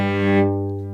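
A single sustained bowed violin note on the open G string, in tune, steady and close, with the upper overtones fading partway through while the low fundamental rings on.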